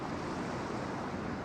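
Ocean surf at San Onofre beach rolls in as a continuous, dense wash of breaking waves, with some wind noise and no voices.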